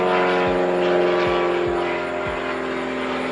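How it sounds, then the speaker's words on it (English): An airplane passing overhead outdoors, a steady, loud, broad engine roar with a droning tone that holds throughout without fading. "Every time I come out here to do the video, there's a plane going over here."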